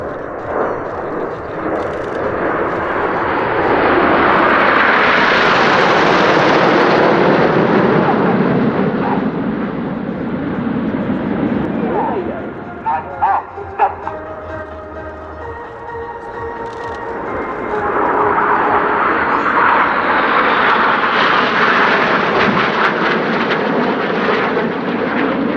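Red Arrows jet aircraft flying past in formation at Leeuwarden air base: a loud roaring surge of engine noise builds and fades, dips into a quieter spell with faint crackles, then a second roaring pass swells.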